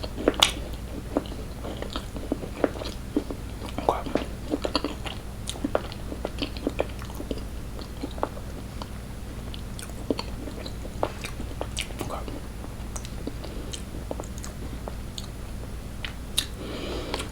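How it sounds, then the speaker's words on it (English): Close-up biting and chewing of a Crumbl peanut butter cookie: a steady run of soft crunches and moist chewing clicks, up close and continuous with no talking. "You have to chew it for a minute for the peanut butter to come through"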